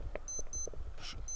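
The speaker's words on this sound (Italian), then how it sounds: "è la sveglia dell'orologio questa?" Short electronic alarm beeps from a wristwatch sound in repeated high bursts, fairly faint against a steady outdoor background during a walk identifying wild herbs.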